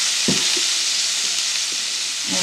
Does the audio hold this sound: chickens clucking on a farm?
no